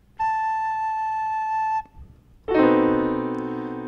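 A recorder sounds a single clear, steady note A for about a second and a half, close and pure with no talking; after a short pause a fuller, richer sustained tone follows.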